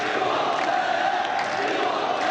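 Stadium crowd noise in an FC football video game: a loud, dense, steady roar of cheering fans that continues unbroken for a couple of seconds with no clear voice standing out.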